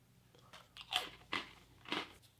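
Someone bites into a crunchy cracker from a Portuguese army 24-hour ration, giving three close, crisp crunches about half a second apart, fairly quiet with faint background between bites.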